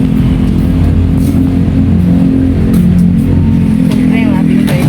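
A motorized tricycle's engine runs steadily at night, a loud, close, continuous drone with a low rumble, while people talk over it.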